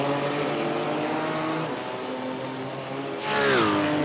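Simulated race car engines from the Digital Nürburgring sim racing endurance series, BMW among them, whining at high revs with shifting tones as cars battle for the lead, a second car's rising scream swelling loudly near the end.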